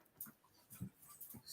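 An excited dog whimpers and pants in short, faint bursts, a few quick breathy puffs and thin whines close by in a quiet room.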